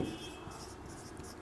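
Pen writing on paper, faint scratchy strokes close by, soft and continuous with no talk.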